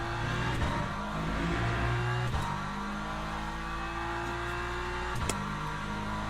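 A BMW race car engine in Le Mans Ultimate: a steady, loud onboard drone with layered engine tones, dipping briefly at a few gear shifts while the pitch rises and settles, heard alone with no talk.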